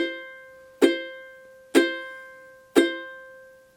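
Three plucked ukulele notes on the same pitch, the C on the third fret of the A string with other strings muted, each ringing briefly and fading before the next, evenly spaced and clear with no talking.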